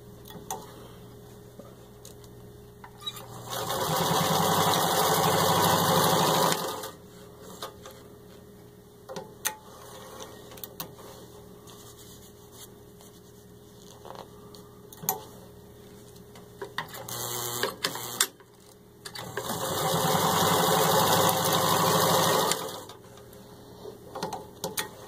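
A serviced, rewired vintage Singer 66-18 crinkle-finish sewing machine stitches through four layers of thin, soft leather, running in two steady mechanical bursts of several seconds each, separated by quieter handling noise.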